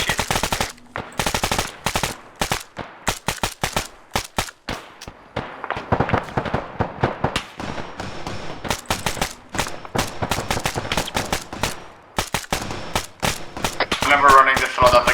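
Dense bursts of automatic gunfire in the military shooter game ACES, rapid sharp cracks repeating in clusters across the whole stretch, loud and close, with a few voices speaking briefly in between.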